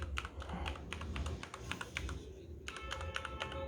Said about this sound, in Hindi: लाइटनिंग वाला कीबोर्ड है और इसके ये बटन जो है ना बहुत सॉफ्ट बटन है